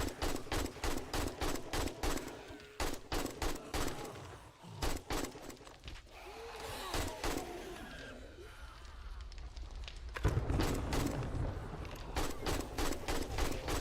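Rapid, evenly spaced gunfire from the zombie survival game 7 Days to Die, loud bursts of repeated shots with brief pauses between volleys and a denser run of fire toward the end.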